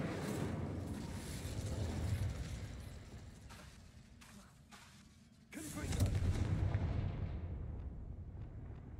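In the video game Hogwarts Legacy, an Incendio fire spell is cast. A loud, rumbling fiery burst swells, drops away briefly, then surges again with a booming, crackling roar that slowly fades.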